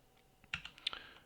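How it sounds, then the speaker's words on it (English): A few quick, light computer keyboard key presses while a key combination is held, crisp clicks clustered close together and fairly quiet, with no talking. "you can hold Control and press tilde, which is the button right below escape on your keyboard"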